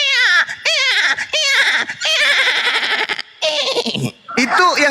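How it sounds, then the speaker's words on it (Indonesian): Goat bleating in loud, wavering cries, several quavering calls in close succession with brief gaps, near and prominent. "Suara kambing"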